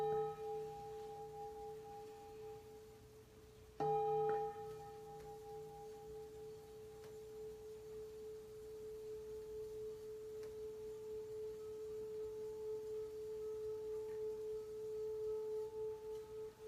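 A singing bowl about 100 to 125 years old rings with a steady, sustained tone and a pure overtone, struck again around four seconds in and left to hum on alone, slowly swelling.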